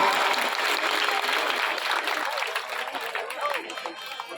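A large crowd at a Shrimad Bhagavat Katha in a packed pandal claps in steady, dense applause that fills the whole stretch and eases slightly toward the end, with a voice faintly audible over it.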